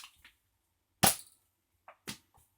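A Nerf blaster fires mega darts with a sharp, loud snap, followed about a second later by a second, softer crack, with brief quiet between.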